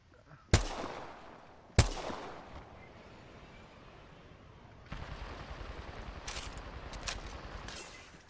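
Video game gunfire: two sharp, loud shots ring out early, then after a lull a denser stretch of quieter, rapid bursts rattles on in the distance.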